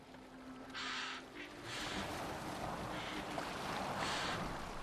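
A boat moves through water in Assassin's Creed Valhalla, with a steady wash of water and wind and a few louder splashing surges, and no speech.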